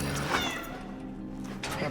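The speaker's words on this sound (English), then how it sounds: "Yo, it's a cat." A cat meows in the video game Cronos: The New Dawn, a drawn-out plaintive call heard close under a voice and game ambience.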